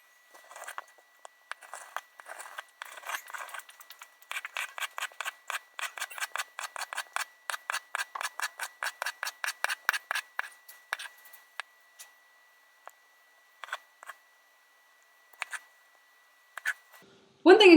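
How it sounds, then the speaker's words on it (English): A knife slices a cucumber down the middle on a kitchen board while making macaroni salad, a quick run of crisp, evenly spaced cuts that speed up and then thin out to a few scattered strokes near the end. "Now with a cucumber, you're going to cut it down the middle."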